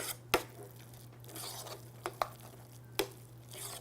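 Chives being stirred into a bowl of smashed potatoes, a soft, steady mixing rustle with a few sharp clicks of the utensil against the bowl, close up and fairly quiet.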